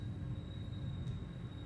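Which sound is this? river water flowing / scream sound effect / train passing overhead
train passing overhead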